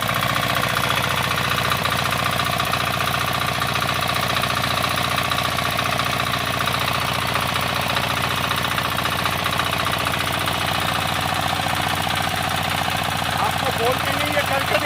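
A four-wheel power tiller engine runs steadily in a field in Bihar, a continuous chugging drone at constant pitch and loudness for the whole stretch, with a voice speaking over it.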